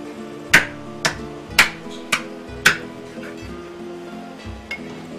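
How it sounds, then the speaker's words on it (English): A large kitchen knife chops through the bone of a leg cut, in several sharp, loud, evenly spaced thuds followed by softer knocks, with a low background hum. "what we're doing is just getting through the bone with the bigger knife and making a gentle cut with the thinner, smaller knife"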